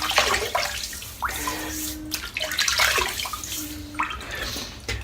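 Water splashing and running as a head is wetted before a shave, with irregular close splashes and trickles over a steady flowing background.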